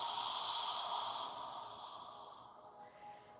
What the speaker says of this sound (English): And when you're ready, exhale.